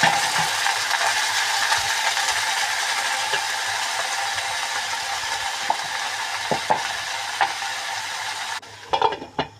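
Pumpkin greens fry in oil with mustard, garlic, onion, green and dry chillies, giving a steady loud sizzle with occasional stirring clicks before the sizzle abruptly drops near the end.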